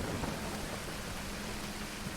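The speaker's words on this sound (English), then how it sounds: "We are getting a proper storm, aren't we?" Storm rain in Rise of the Tomb Raider, a dense, steady hiss of downpour with a low rumbling undertone, continuous and fairly loud, with no voices.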